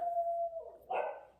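A dog barks outdoors on a sunny spring afternoon in a residential street, a drawn-out yowling bark followed by a louder, higher burst, moderately near and alone without talk.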